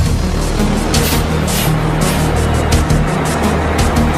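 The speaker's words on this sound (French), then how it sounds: "« 20h05, le bus numéro 203 arrive." The number 203 bus pulls in at 20:05, its engine a steady loud rumble with hissing bursts over the drone and no voices.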